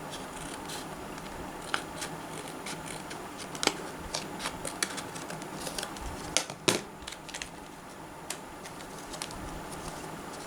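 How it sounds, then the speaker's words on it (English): Scissors snip and crackle through the plastic packaging of a flash drive, with irregular close clicks and rustles scattered over several seconds against a quiet room. "It's okay, let us cut."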